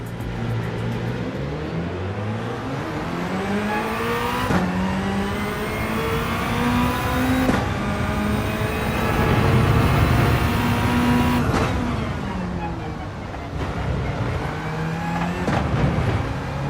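A race car's engine revs and climbs through the gears in Gran Turismo 7, loud and close, with repeated rising pitch sweeps that each end in a sharp shift.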